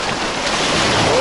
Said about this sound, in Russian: И сегодня не очень большие волны, не очень много барашка